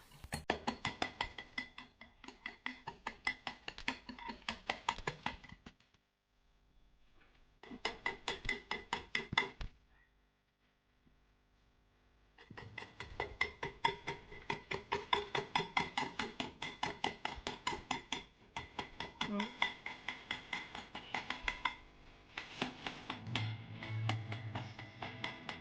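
Dalgona coffee mixture is whisked by hand in a bowl until foamy, a fast, steady clatter of rapid strokes running in long bursts with brief pauses, close and loud with no talking.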